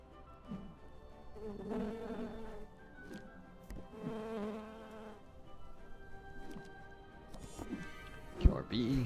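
Killer bee enemy in the video game Popup Dungeon, a buzzing insect drone rising and falling through the scene while a person talks over it.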